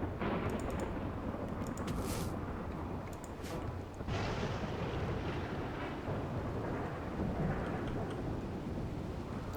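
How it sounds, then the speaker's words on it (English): A thunderstorm in the video game Rimworld makes a steady, fairly quiet roar of wind and rain with a low rumbling undertone that runs on without a break. "Got a storm."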